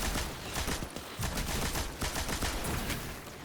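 Sustained machine-gun fire in the video game Destiny 2 roars as a dense, continuous barrage of overlapping shots, loud and unbroken throughout.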